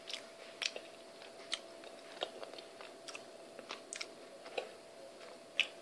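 Someone chewing a gooey Nutella brownie baked in a rice cooker: quiet, irregular soft bites and moist chewing clicks, close up, with no talking.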